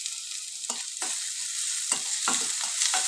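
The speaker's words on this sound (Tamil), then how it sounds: "ஒரு லைட் ப்ரௌன் கலரில் வெங்காயம் வதங்கிடுச்சுங்க" Onions frying to light brown in a pan for adai dosa batter, a steady close sizzle with intermittent scraping stirs of a spatula, no voices.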